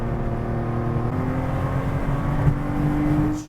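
A Porsche 911 RSR 3.6 race car accelerates hard, its engine note climbing steadily in a loud, close roar that cuts off abruptly at the end.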